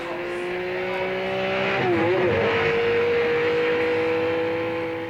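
A 1959 Alfa Romeo Giulietta SV accelerates along a short straight on a Sicilian road, its engine note climbing steadily and loud and close throughout, with a brief shift dip partway before pulling on strongly.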